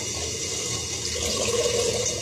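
Water pours into a cooking pot of tinned tomatoes on the stove, a steady splashing and trickling stream that swells slightly toward the end, close and alone without talk.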